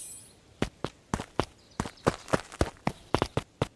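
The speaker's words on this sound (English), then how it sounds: "Luka heard a group of footsteps approaching." Footsteps approaching in the video game Beacon Pines, a group of soft crisp steps falling in an irregular patter of about a dozen, close and fairly quiet, with no voices.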